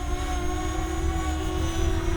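Eachine EX4 (JJRC X12 C-Fly Faith) drone in flight, a steady close motor whine with a sustained tonal hum, constant in loudness throughout and heard alone without talk.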